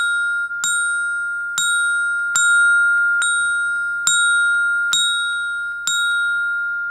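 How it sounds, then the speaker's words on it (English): Orchestra bells played with bell mallets, the note F struck seven times at a steady, unhurried pace, each bright metallic ding ringing on clearly and overlapping the next, alone with no talking. "It is very important that all percussionists know how to perform on mallet instruments."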